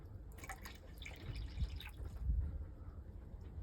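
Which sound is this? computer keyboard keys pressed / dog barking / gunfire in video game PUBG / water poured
water poured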